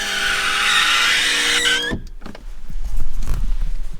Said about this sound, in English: And anytime I put the window down, I have to listen to that.